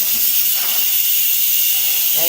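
Steam hisses steadily and loudly from an Instant Pot's pressure release after cooking applesauce, a continuous close-up rush without pause.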